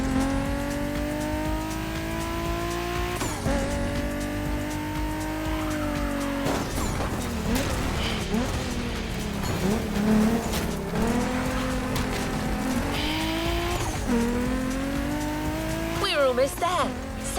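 A BMW drives through Hawaiian scenery in The Crew Motorfest, its engine droning steadily and rising in revs, with shifts in pitch and brief tyre squeals near the end.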